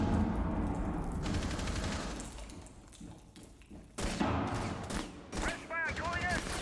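Dense, sustained gunfire in a Rainbow Six Siege match: rapid automatic bursts with heavy booms, loud and continuous. A commentator's voice runs underneath.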